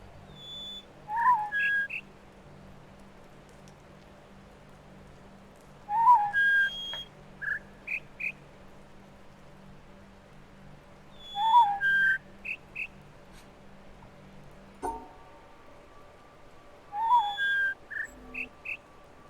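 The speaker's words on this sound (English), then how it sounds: "I think it's the whistle for that one." Whistle puzzle in the video game The Witness: a repeating sequence of short rising whistled chirps with a few trailing notes, recurring about every five seconds over a low steady hum, with no talk.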